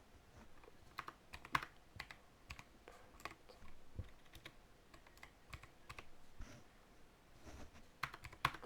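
Rapid keystrokes on a computer keyboard during a Blox Fruits gaming session, irregular clicky taps in quick bursts over a soft background hiss, close and fairly quiet, with no talking.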